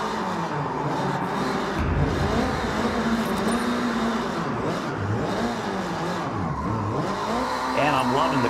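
A drift car in Forza Horizon with the clutch kicking: a loud, continuous revving engine whose pitch swings up and down, with tire squeal under steady driving noise and a voice over it.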